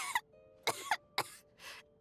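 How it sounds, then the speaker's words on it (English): A character in the video game Genshin Impact coughs in three sharp, dry bursts followed by a softer fourth cough, close and clear against a quiet background with no talking. "How long have you had that cough, Tonya?"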